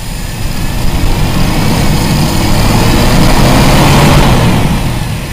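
A Toyota Kijang Super engine revs steadily with its carburetor power jet stuck always active, producing a loud, continuous mid-range roar that rises slightly in intensity toward the end, with no talking.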